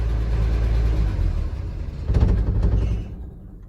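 A 1978 Ford F-150 that sat for 28 years, its engine rumbling close at idle, rising briefly in a short rev and then cutting off, leaving only faint residual noise.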